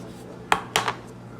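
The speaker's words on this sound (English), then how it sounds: "get you a small knife or something to go around the edges to make sure that it's not sticking" A small knife scraped around the edges of a pineapple upside-down cake pan, giving two brief metallic scrapes close by in an otherwise quiet kitchen.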